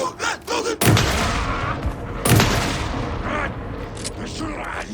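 Heavy gunfire in Alan Wake 2, with two booming shots that ring out over dense rumbling combat noise, mixed with a few short voice sounds at the start.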